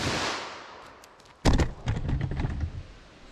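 A single sharp .357 Magnum gunshot fired into a gut-shot test target, loud and close, with a sudden crack followed by a brief burst of rattling impacts and echoing clatter that trails off.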